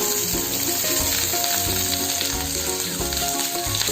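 Onions sizzling in hot oil with dried red chillies for an idli chutney, a loud, dense, continuous frying crackle that runs steadily throughout with no talking.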